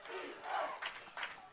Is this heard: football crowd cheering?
yes